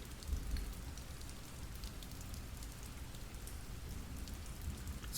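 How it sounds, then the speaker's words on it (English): Heavy rain pours down on a deserted city street, a dense, steady wash of droplets and splatter that holds even and unbroken throughout, with no voices. "the rain's coming down hard"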